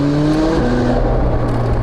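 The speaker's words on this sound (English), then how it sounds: "one of the cool things about having a roof scoop is that you can hear the induction noise" A McLaren 675LT's engine drones loudly and steadily from inside the cabin on a highway, a sustained tonal induction hum through the roof scoop that shifts slightly in pitch as it pulls.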